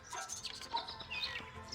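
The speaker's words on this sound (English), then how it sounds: "They're bird cages, but the birds are coming and going freely." Small birds chirp and tweet in short, scattered calls in a game's fancy bird cages, where three colorful birds flit in and out freely; the calls are fairly faint and overlap throughout.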